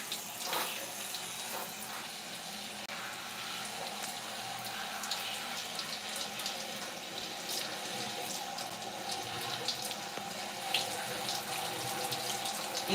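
Tap water runs steadily from a faucet into a sink while hair color wax is rinsed out, a continuous even splashing hiss with no voices throughout.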